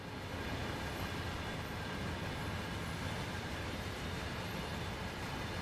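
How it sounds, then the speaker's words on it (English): Vectron electric locomotive in Train Sim World 4, a steady broadband rumble and rail roar running continuously at even loudness, no pauses or distinct events, heard from close by. "It's a powerful little beastie, the Vectron."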